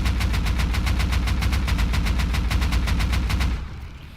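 An AK-47 rifle in the survival game Rust fires a loud, steady full-auto burst of roughly fifteen rapid shots for about three and a half seconds, then stops abruptly.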